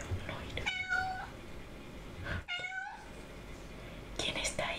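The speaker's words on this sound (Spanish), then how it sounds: "Estaba maullando y pues le tuve que abrir la puerta." Two drawn-out meows from a small female cat, each a wavering tone near the microphone, separated by a pause; a faint whispery sound and soft rustling fill the gaps.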